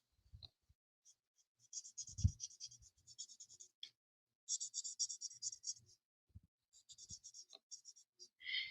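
Marker or pencil strokes on paper while coloring a drawing by hand, coming in bursts of scratchy scribbling separated by pauses, close and fairly quiet, with a few soft bumps and no voices.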